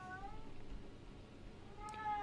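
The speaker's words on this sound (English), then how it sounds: "My cat is serenading us from the background" A pet cat meows faintly in the background, one drawn-out cry near the start and another near the end, under a low steady hum.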